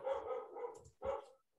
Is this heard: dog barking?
yes